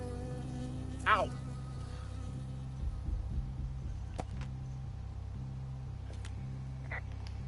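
A bee buzzes close by in a forest, droning beneath a low, steady engine-like hum, with a brief sharp cry near the start and a few scattered clicks.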